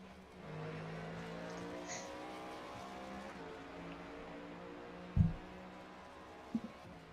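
Race cars circle the Circuit of the Americas in the iRacing video game, a steady, fairly quiet engine drone with a sustained tonal hum and one brief sharp thump near the end.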